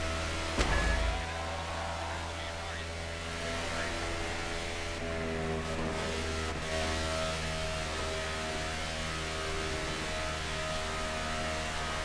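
NASCAR race car engine droning steadily on a qualifying outlap at Atlanta in NASCAR The Game Inside Line, a loud sustained hum with harmonic layers and a brief burst near the start, alone without talk.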